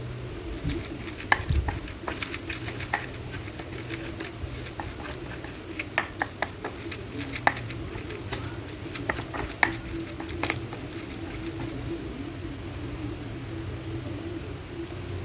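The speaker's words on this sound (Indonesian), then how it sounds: "aku mau ulek dulu bawang putih, kemiri, dan kencurnya" Garlic, candlenut and kencur are ground with salt in a mortar, giving a steady scraping rub broken by frequent small knocks and clicks of the pestle, close up and continuous with no speech.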